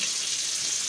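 Water rushing from a water heater supply line just after it is opened, a steady bright hissing flow, loud and close, with no break.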